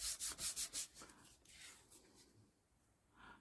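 A braid rubbed back and forth over paper laid on an inked foam stamp: about six quick, even scratchy strokes, then softer, slower scraping that fades before one last brush.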